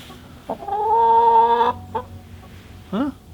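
A hen out in the snow gives a drawn-out, close cluck and then a few short, softer clucks with gaps between them.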